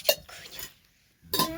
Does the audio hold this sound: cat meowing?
no